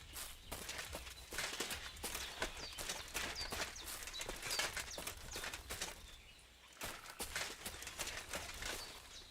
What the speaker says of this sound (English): I swear I heard footsteps.